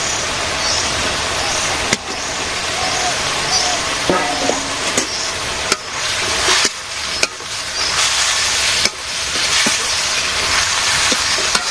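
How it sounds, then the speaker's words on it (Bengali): Potatoes dropped into a hot pan in a simple village kitchen fry with a loud, steady sizzle throughout, broken by a few sharp clicks and scrapes of stirring. "এখানের মধ্যে আলু দিয়ে দিই।"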